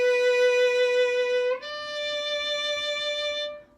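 A violin holds a long, bright tone on the note B. About halfway through the pitch slides up slightly and then settles again. The tone is sustained and clear and fades out at the end, played alone without any talking.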